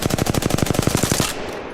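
A gun with an extended magazine fires in rapid full-auto bursts in a video game training room, roughly fifteen sharp evenly spaced shots in a loud continuous stream that cuts off abruptly, followed by a brief quieter tail.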